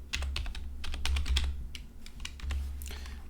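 Quick bursts of keystrokes on a computer keyboard while C++ code is entered, clicking in uneven clusters with short pauses, close and clear with no talk.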